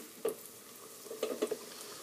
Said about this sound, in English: I'm going to be cooking these twice, so that's the secret to crispy French fries, is the double frying